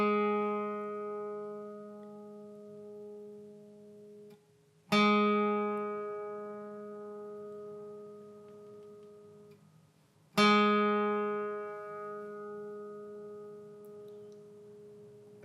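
A single guitar note on the G string at the first fret, struck twice and left to ring, each pluck sharp and then slowly decaying; quiet and clean with no talking.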